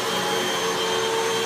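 Upright vacuum cleaner, either a Hoover WindTunnel 2 Rewind Pet or a Dyson DC33, running steadily while sucking up rock salt from the floor, a loud constant whine with a fixed tone and no speech.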